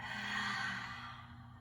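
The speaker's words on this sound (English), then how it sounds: "Audible exhale through the mouth" A steady, breathy exhale through the mouth during a gentle yoga breathing exercise, one long soft whoosh fading out over under two seconds, close and fairly quiet with no talking.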